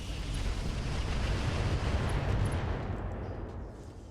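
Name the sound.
Artemis weapons firing in RogueTech video game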